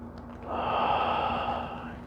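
A single slow breath during a tai chi and qigong session, a soft airy exhale swelling and fading over about two seconds, close and gentle with faint background hum.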